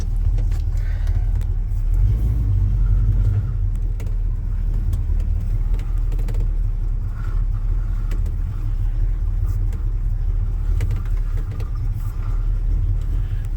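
A Chevy C10 pickup's engine rumbles steadily while driving, a low continuous drone with small shifts in tone and road noise throughout.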